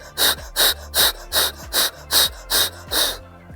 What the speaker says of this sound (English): Come forward, forceful exhale.